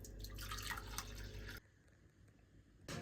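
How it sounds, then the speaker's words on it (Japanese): Heavy rain falling and dripping outside a home, a dense steady patter that cuts out abruptly into near silence for over a second before resuming, faint. "雨ひどすぎでしょ。"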